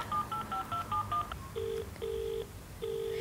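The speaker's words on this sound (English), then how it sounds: "I'm gonna call my friend Guy if I can figure out how to work this house phone" Touch-tone keypad beeps from a house phone being dialed: a quick run of short tones followed by three longer, evenly spaced beeps, close and clear with no talk.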